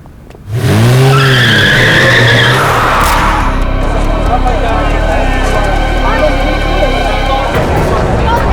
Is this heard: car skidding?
yes